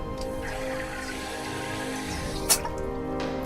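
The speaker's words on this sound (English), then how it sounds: "I'll take a sip of water for a sec here" A single brief, close sip of water cuts sharply through a steady low room hum, with no other sound around it.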